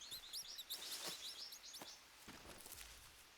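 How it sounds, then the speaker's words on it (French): Birds chirp and trill in a jungle in the survival video game Green Hell, with quick repeated high calls over soft ambient rustling and a few muffled footstep thumps. "Oh, il y avait les oiseaux."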